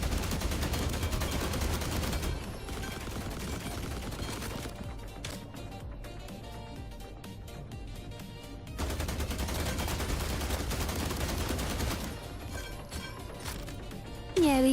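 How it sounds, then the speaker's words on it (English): Robotic caretaker bot in The Last Caretaker video game firing rapid bursts of gunfire, loud and sustained over a dense game soundtrack, with a brief lull midway before the shooting resumes. "some cheeky little caretaker bot comes along and starts shooting him"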